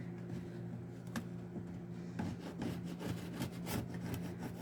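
A repurposed household object used as a scraper rasps in short, repeated strokes over a steady low hum, the scraping growing more frequent and rhythmic in the second half.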